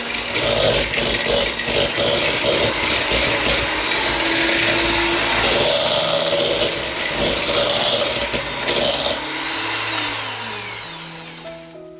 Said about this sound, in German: Weiter geben wir anschließend die Zuckermischung zur cremigen Butter hinzu und schlagen weiter